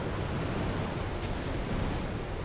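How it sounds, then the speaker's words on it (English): A missile explosion in a combat video game bursts as a loud, sustained roaring rumble that fills the whole moment with dense noise, with no voices heard. "Second missile finds its home."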